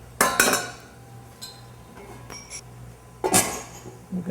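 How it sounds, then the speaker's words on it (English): Items clatter and clank into a metal kitchen sink, a sharp burst of clinks at the start and another near the end, with softer knocks in between. "Just throw this in the sink behind you."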